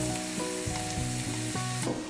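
Diced tomato goes into a pan of sizzling butter with softened onion, giving a steady crackling fry under a layered background hum, with a few stirring scrapes.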